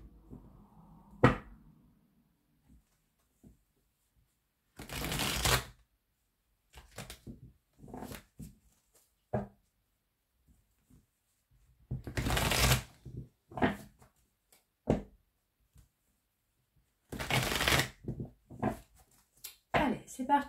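Oracle cards being shuffled by hand in short riffling bursts that are separated by pauses. The bursts are close and crisp, with a few light taps and handling noises in between.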